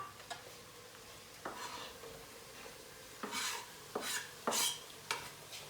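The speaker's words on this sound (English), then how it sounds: "Tomatoes are going in the pot." Tomatoes dropped into a hot pot with garlic, giving a few sharp clattering stir and sizzle bursts over a low steady frying hiss, fairly quiet and close with no talking.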